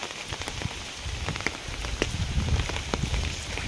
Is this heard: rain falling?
yes